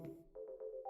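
Electronic phone ringtone in a video game, sounding in a few short repeated tonal pulses after a brief muffled burst, clear and close with no talking.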